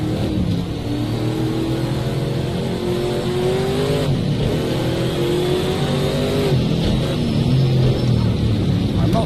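Race cars from an Indy-style racing game at Brands Hatch scream past in a loud, continuous engine whine, with pitch sweeps as cars close in and pull away, overlapping one another for several seconds.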